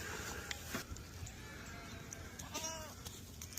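A goat bleats on a farm amid steady outdoor background noise, a short wavering call rising briefly over the ambience.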